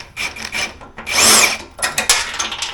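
A power drill whirs in short bursts while removing the brake pad arms from a lawn mower, with a longer sustained run in the middle and scraping, rattling handling noises between.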